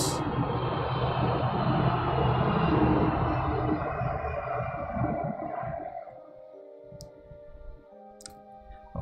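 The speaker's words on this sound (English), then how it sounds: "Well, thank you, Mr. Airplane." A passing airplane roars loudly through the first half, then slowly fades and recedes, leaving a few faint tones and sharp clicks near the end.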